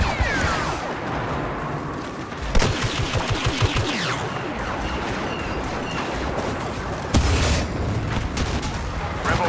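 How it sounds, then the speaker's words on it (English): Rapid explosions and gunfire burst during a bombers' attack run in Star Wars Battlefront, a dense barrage of booms and crackling shots with whooshes, loud and continuous with sharp blasts rising above the din. "Bombers are making their attack run."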